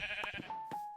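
A Minecraft sheep bleats in short nasal calls, two or three quick cries over a soft game background with a steady tonal hum.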